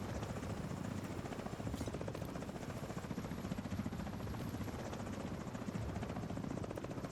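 Helicopter rotors in a video game chop in a fast, steady, even rhythm, a continuous close drone with no pause or talk.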